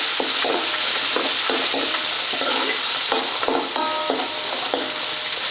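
Onions and curry leaves fry in hot oil with cumin, mustard seeds and peanuts, a dense continuous sizzle with faint crackles and the light scrape of stirring, close and steady with no talk.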